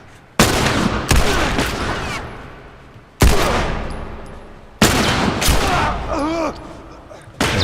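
Loud gunshots from an enemy firing out of a window in The Last of Us, arriving as four sharp, booming blasts spaced a second or two apart, each followed by a decaying echo, with scattered ricochet-like whines in between.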